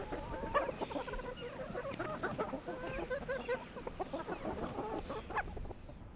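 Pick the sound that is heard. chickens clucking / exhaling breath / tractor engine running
chickens clucking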